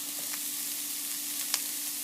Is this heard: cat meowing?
no